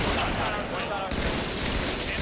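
Heavy, dense gunfire fills a 2008 Halo-style competitive match, a continuous loud fusillade of overlapping shots from start to finish with no clear pauses.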